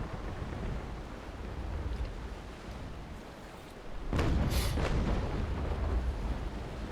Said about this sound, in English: Let's chain shot her.